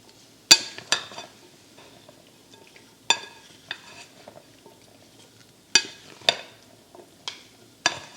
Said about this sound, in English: We're going to go in and toss up the salad.